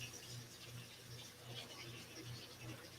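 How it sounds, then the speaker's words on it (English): Tap water runs steadily into a kitchen sink used for cleaning a vacuum sealer's tray after packing skipjack herring, a soft continuous hiss and trickle at a constant level with no talking. "Run some water in the sink back here."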